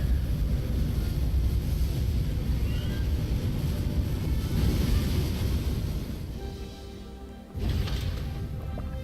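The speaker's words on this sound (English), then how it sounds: "Ignition. Liftoff." Rocket liftoff in the space-program game Buzz Aldrin's Space Program Manager: a loud, steady broadband roar fills the scene, dipping briefly near the end before surging back.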